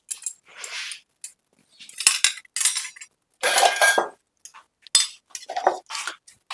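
Dishes and utensils clatter and clink as they are set out in a home kitchen, several bursts of metal and crockery knocking together with short pauses between.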